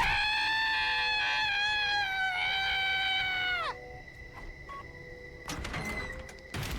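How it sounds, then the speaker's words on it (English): A loud, sustained, wavering scream from the character Shoma in The Hundred Line: Last Defense Academy lasts nearly four seconds and cuts off abruptly, followed by quieter shuffling and a sharp clattering bang. "he let a blood-curdling scream and scrambled back to his room"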